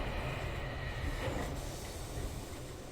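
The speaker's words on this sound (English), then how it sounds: "It's a submarine subway. A subway marine." A submarine subway vehicle from the video game Riven moving steadily along, a continuous rumbling, rattling rail-like ride with faint squealing, heard alone at moderate volume.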